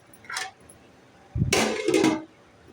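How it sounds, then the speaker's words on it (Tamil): A lid goes back onto a frying pan of brinjal while it cooks, with a light clink, then a louder metallic clatter and scrape as it settles, close by and with no talking. "நம்ம இப்போ திரும்ப மூடி போட்டுடலாம்."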